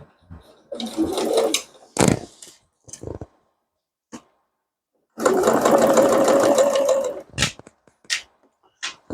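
A sewing machine stitches a crossbody bag in short bursts of fast mechanical whirring, with one longer run in the middle, separated by pauses, clicks and handling noises.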